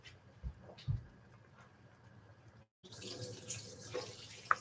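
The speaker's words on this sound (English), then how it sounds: "I'm just going to dump the water, then add them in" Cold soaking water is poured off potatoes into a kitchen sink, a quiet trickle and splash that stops briefly, then returns as a fuller rush of draining water with a few small clinks.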